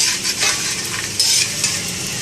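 Ingredients roast in ghee with a soft, steady sizzle while a utensil scrapes and clinks against the pan in irregular strokes, close by, with no talking.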